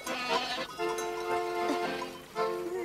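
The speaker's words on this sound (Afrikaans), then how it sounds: "Daar oorkant is sowaar bokke." Goats bleat nearby across a rural landscape, several wavering, drawn-out cries overlapping one after another, fairly loud against a faint outdoor background.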